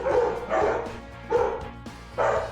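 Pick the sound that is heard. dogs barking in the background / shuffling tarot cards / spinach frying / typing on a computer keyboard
dogs barking in the background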